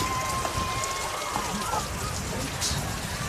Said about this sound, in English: You also see a bunch of raindrops that are floating down. Actually, they're not floating down. They're coming down like missiles.